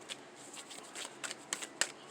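Tarot cards shuffled from a deck in a series of soft, crisp riffling bursts with short pauses between them, close and fairly quiet, with no voices.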